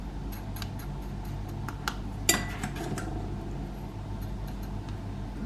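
A tablespoon scoops sugar into a container while baking a cake at home, giving light scraping and metallic clinks with one sharper clatter midway, under a steady kitchen background.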